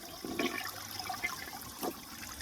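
A restored 1978 Eljer Emblem toilet flushes with a steady rush of water and soft gurgling surges, heard up close and on its own throughout.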